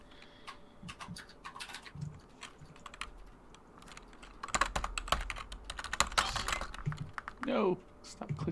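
Typing and clicking on a computer keyboard comes in quick, uneven bursts of close, crisp taps, with some livelier clatter midway and voices talking quietly alongside.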